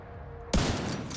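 Sudden loud burst of gunfire in The Division 2 erupts partway through after a quiet start, a rapid volley of shots that keeps ringing on to the end.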